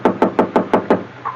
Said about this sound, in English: the sound I heard was a knock on my door